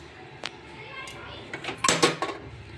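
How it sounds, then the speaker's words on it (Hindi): Clinking bowls and dishes being stacked away after washing in a home kitchen, a few sharp knocks early then a cluster of louder clattering clinks near the end, with faint background voices. "तो ये लगा दूँगी मैं सारी कटोरियाँ इसमें।"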